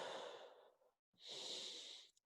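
Two long, deep breaths taken during a full-body stretching routine, each a slow airy inhale or exhale with a short quiet gap between them, close and clear with no talking.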